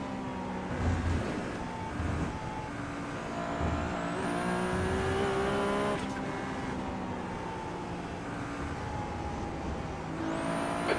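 Race cars launching off the start in iRacing, played in VR: a dense, loud chorus of revving engines with pitch sweeps as gears climb, plus faint squeals, sustained throughout.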